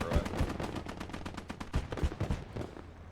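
Rapid bursts of machine gun fire from a static MG emplacement in the WWII game Gates of Hell: Ostfront, loud, dense rattling volleys with heavier thumps mixed in over about three seconds.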